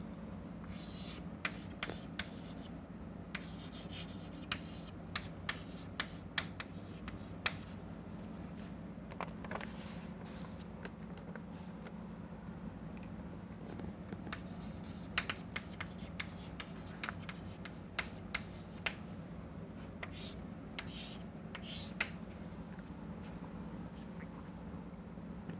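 Steady scratching and tapping strokes of a pen or marker drawing a microscope schematic on a board, irregular and close, over a constant low electrical hum.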